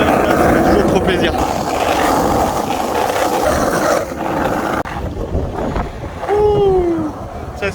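Strong wind buffets the microphone continuously outdoors while skateboarding, roaring loudly throughout with a brief dip midway.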